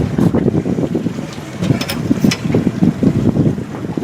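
Wind gusts across a lake around a small fishing boat, buffeting the microphone with a loud, uneven low rumble and occasional water splashes, no voices.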